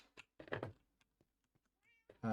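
A cat meows a few times, short and fairly soft, with gaps of near silence and small clicks between, then a louder sound at the end.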